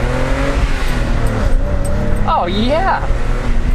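A BMW 325is E30 engine revs hard while driving, its pitch climbing and dropping in sweeps over a steady road drone. People talk and react excitedly over the engine.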